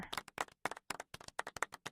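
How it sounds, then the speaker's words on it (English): Hands clapping in a quick, uneven burst of about fifteen sharp claps, close and alone, no talk. "Clap more!"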